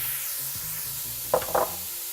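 Potatoes sizzle as they fry in a warm pan, a soft steady crackle with a couple of brief louder stirring or scraping bursts near the end and no voices.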